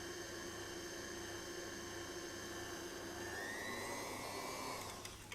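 An electric mixer whirs at high speed through cake batter for a red-fruit layer cake, giving a steady, loud whining hum that shifts slightly in pitch near the end.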